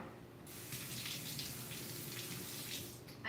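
Water runs steadily from a tap, a faint, continuous gushing stream that starts and keeps flowing for a few seconds with no talking.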